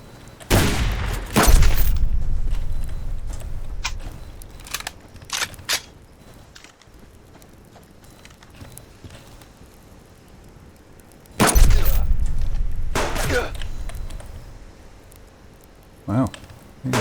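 Sharp in-game gunfire bursts, a loud cluster of cracks near the start and another around the middle, with scattered smaller impacts and clatter between them in a video game setting.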